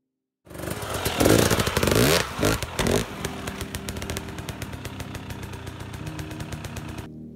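Dirt bike engine revving loudly as the rider carefully rolls the trail bike over a log, a burst of throttle followed by a steady, close idle-like rumble with clattering.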